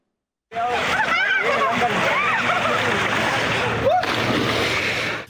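Children splash and play in a cold river at Harnoi, Abbottabad, with continuous rushing water and splashes close by, and lively young voices and shouts over the flow.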